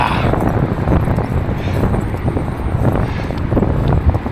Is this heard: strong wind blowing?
yes